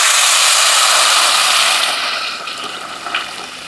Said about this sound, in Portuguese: Aqui pra mim, quando tá assim, é o ponto ideal pra colocar a água